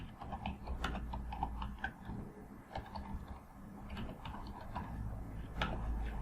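A computer keyboard is typed on steadily with dense, quick key clicks over a constant low hum of background noise, no voice heard.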